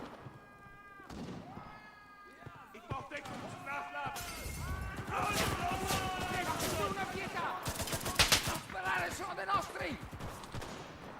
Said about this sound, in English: Somebody's getting shot at up close and personal here.